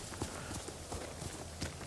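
Horse hooves clip-clopping in Ghost of Tsushima, a quick irregular run of soft hoof beats over a steady game backdrop, moderately near and fairly quiet.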